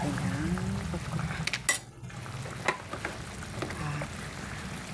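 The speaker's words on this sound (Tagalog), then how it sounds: "Lagyan na natin ang okra." Okra is tipped into a hot pan and stirred, giving a steady sizzle with a few scrapes and clinks of a utensil against the pan, close and fairly quiet.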